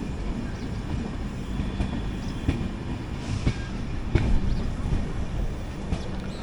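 The Mangala Lakshadweep Express, hauled by a diesel locomotive, runs at speed near Agra Cantonment, with a steady loud rumble of wheels on track broken by sharp rhythmic clacks over rail joints.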